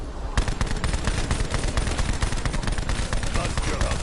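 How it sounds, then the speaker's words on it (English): A Tommy gun firing in a PS4 shooter, a long rapid burst of loud automatic shots in a steady rattling rhythm, continuing almost without pause after a brief quiet start. "Tommy gun."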